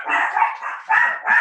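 A dog barking close by in a burst of several loud, high yelps and barks, one running into the next with short gaps between.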